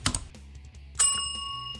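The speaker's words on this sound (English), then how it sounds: "ring the notification bell" A bright notification bell dings once, clear and ringing out with a long fading tail, after a few soft clicking taps.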